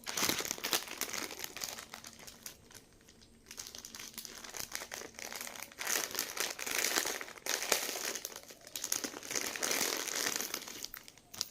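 Crinkly wrapping around a jewellery package is torn and crumpled open, with bursts of crackling and rustling coming close up and steadily for the whole stretch, pausing briefly before picking up again.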